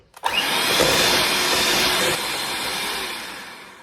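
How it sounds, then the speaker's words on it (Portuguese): An electric stand mixer beats a pineapple and coconut cake mixture with a loud, steady whirring drone that runs without pause, no voices over it. "para a gente poder bater essa mistura aqui na batedeira"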